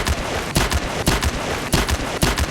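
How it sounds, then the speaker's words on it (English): Five sharp, loud gunshots from a .45 caliber handgun crack out in an irregular burst, each a broadband blast with a short ringing tail, heard alone in a horror audio drama. "Mr. Deloy reveals from his coat pocket a .45 caliber handgun. 5 shots ring out"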